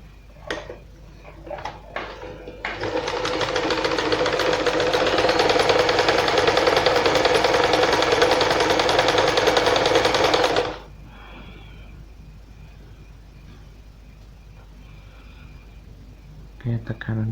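A Janome 1122 EX sewing machine stitches steadily for about eight seconds, a dense loud mechanical run with rattling needle action that stops abruptly, preceded and followed by quieter handling noises.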